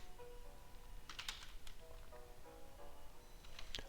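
Python code typed on a computer keyboard: scattered, quiet key clicks with a few brief clustered bursts, close by, with no talk.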